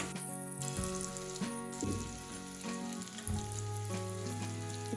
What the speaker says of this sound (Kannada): ಸ್ವಲ್ಪ ಗರಿ ಆಗೋವರೆಗೆ ಈ ಥರ ಎಲ್ಲ ಇದು ಮಾಡ್ಕೋಬೇಕು ತುಪ್ಪದಲ್ಲಿ